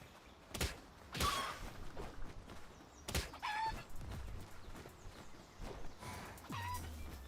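A chicken in the video game PalWorld gives a few scattered clucks and squawks over a quiet in-game background, with short gaps between calls and soft footstep-like clops.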